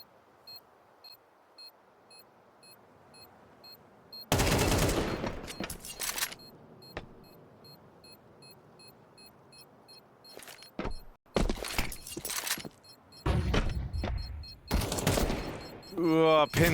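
Bursts of rifle fire and a knife kill in Counter-Strike during a NAVI esports match, sharp clustered shots in several loud volleys between quiet stretches, with a commentator talking over parts of the action.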